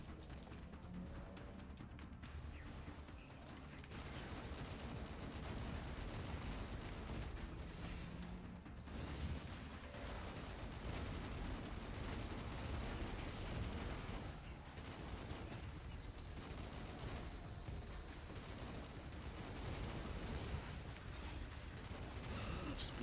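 Sustained automatic gunfire from a weapon in the sci-fi shooter game Destiny Rising, a dense and steady barrage that runs almost without pause, loud and close, with a brief lull near the start.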